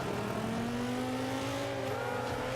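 Ferrari F50 race cars in Forza 5 drone steadily side by side on track, a continuous engine tone gradually rising in pitch with no breaks, close and moderately loud throughout.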